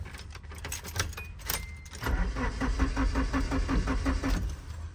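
A Nissan 240SX cranks as someone tries to start it, a few seconds of rhythmic starter-motor churning with a pulsing beat, preceded by jangling keys and clicking, close and steady without the engine catching.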